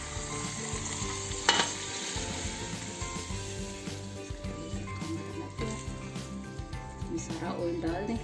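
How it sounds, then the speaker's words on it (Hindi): A hot tadka of oil and paprika powder goes over dal palak, raising a close, steady sizzle and crackle with occasional clinks of a utensil, while a voice talks over the sound. "इसके ऊपर तड़का डालें।"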